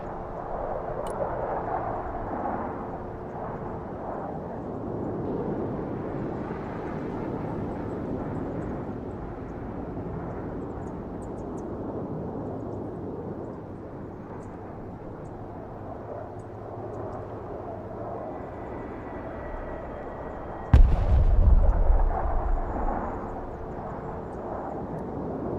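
In the Broken Arrow war game, a jet aircraft roars overhead in a sustained rumbling drone, then a sudden heavy explosion booms loudly about two-thirds of the way through, followed by lingering rumble.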